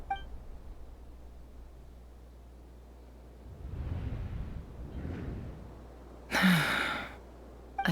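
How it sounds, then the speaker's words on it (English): A character in Genshin Impact gasps: a soft, breathy intake over a quiet background, followed near the end by a sharper, louder burst of breath. "I heard Yehuda gasp"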